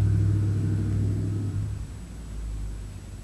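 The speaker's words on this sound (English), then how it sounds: "My friend Scott actually drove by in his truck" A truck rolls past close by, its low engine rumble and tonal drone strong at first, then fading and easing off as it moves away.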